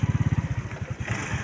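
A motorcycle engine putters close by in a rapid, even pulse that loosens and softens as it slows, with faint background noise and no talk over it.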